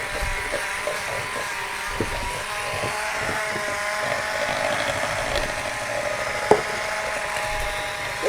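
An electric mixer creaming butter with light brown sugar in a home kitchen, giving a steady mechanical whir with tonal hum, punctuated by faint rhythmic clicks and knocks of beaters against the bowl; no one speaks.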